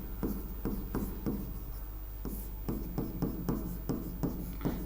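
Pen or pencil writing an example by hand on paper, a close, steady run of short scratchy strokes with regular rhythmic pauses and no talking.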